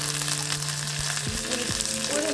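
Dried red chilli and a few small shallots sizzle in hot oil with a short, even crackle. A faint tonal hum sits under the frying.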